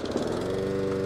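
A lawn mower engine drones steadily with a low, buzzing hum, close and continuous throughout with no voices.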